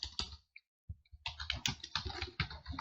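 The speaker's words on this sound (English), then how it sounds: "Control V on your keyboard to paste" Fingers tap out quick bursts on a computer keyboard, crisp close clicks in rapid runs broken by a short silent pause, with no voices.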